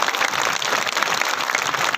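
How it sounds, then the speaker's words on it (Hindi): A seated crowd at a Hindi comic poetry gathering in Bilaspur claps together, a dense, loud, continuous burst of applause with no pauses. "और जितने बैठे हैं एक बार ताली बजाकर बता दे"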